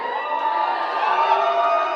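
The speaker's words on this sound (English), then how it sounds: "Give me a cheer if you're part of a society." A packed student crowd cheering and whooping at a student union election results night, a steady, bright wall of voices close by, loud and sustained without a break.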